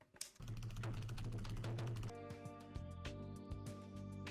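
Quiet computer keyboard typing with an Enter press in a Linux terminal, soft rapid clicks under a low hum, then a few scattered taps as a steady tone enters partway through.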